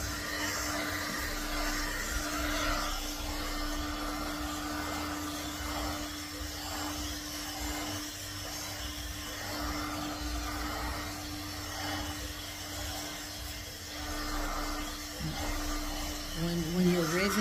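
Hair blow dryer running steadily over curing resin on a memorial charger plate, a constant whooshing hum with a fixed tone that holds throughout, close and fairly loud.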